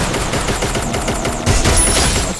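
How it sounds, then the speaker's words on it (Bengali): Loud sustained automatic gunfire in a shooting video game, a fast steady stream of sharp close shots with a brief louder burst partway through. "শুধু দাঁড়ায় পড়ে একেবারে পুরো ফায়ার"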